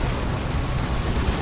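Cannon fire and explosions boom in a chaotic Dawn of War 2 battle, forming a dense, loud, continuous rumble of blasts with no clear gaps.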